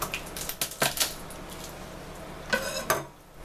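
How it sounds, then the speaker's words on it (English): Garlic cloves crushed with the flat of a kitchen knife on a board, giving a burst of sharp knocks and clatters, then a pause and two more firm presses, close and clear. "you want to crush the cloves of garlic"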